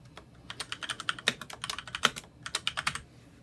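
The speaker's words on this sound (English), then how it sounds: "so I type that into the notes field" Rapid typing on a computer keyboard while entering a meter reading into a notes field at an FM radio station, a steady run of close, crisp key clicks with brief pauses and no talk.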